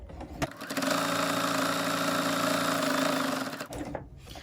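A sewing machine stitches a fabric reusable coffee sleeve for a take-out cup, starting after a brief click and running at a steady, close, continuous whir for about three seconds before stopping.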